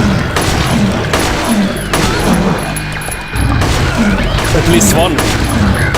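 Gunfire in the horror game Silent Hill 3, a series of loud, regularly spaced shots booming close by, with someone speaking briefly between them.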